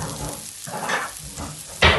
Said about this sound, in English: I'm going to saute my mushrooms. With a couple of knobs of butter